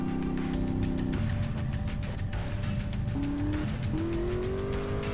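A fast car from GTA San Andreas drives along a dirt track, its engine drone sliding up and down in pitch through gear changes. Scattered tire scrubs sit under the steady, fairly quiet engine noise, with no voices.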